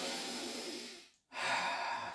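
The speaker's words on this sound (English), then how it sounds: "Same thing, like breathe in deep through the nostrils." A slow, deep breath drawn in through the nostrils during a qigong belly-breathing exercise, a soft airy inhale that fades into a brief silence before another breath of air follows.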